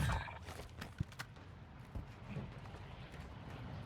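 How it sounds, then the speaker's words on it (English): Footsteps sound behind the player in Call of Duty DMZ on Ashika Island, a few soft, irregular thuds over dense ambient background noise. "Can hear footsteps behind me"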